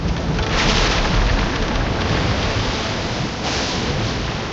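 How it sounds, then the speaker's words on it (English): A violent storm at sea strikes a ship in Baldur's Gate I. Heavy rain and rumbling thunder make a loud, dense, continuous roar with brief swells in intensity and no voices. "The storm comes without warning and hits with a fury that seems almost deliberate."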